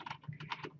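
Quick, soft clicking of keys on a computer keyboard while typing into a spreadsheet, a short burst of several close-miked taps.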